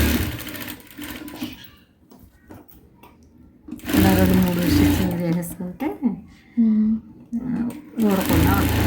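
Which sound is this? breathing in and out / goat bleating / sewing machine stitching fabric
sewing machine stitching fabric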